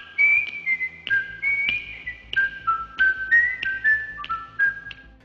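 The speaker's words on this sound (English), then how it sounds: "most recognize the cheerful whistling that opens every episode" Cheerful whistling of a theme song: a clear, close solo melody of bright phrases that rise and fall, with no talking.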